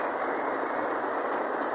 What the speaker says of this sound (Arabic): هانتوما الإخوان الشتا الليل، الشتا تاع بصح